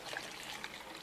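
Coloured water poured into a container, a soft, continuous trickling splash, faint and brief.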